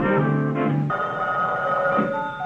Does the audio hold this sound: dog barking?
no